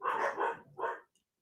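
Several dogs bark in a quick run of overlapping, loud, close barks, then a short pause and one more burst before falling silent.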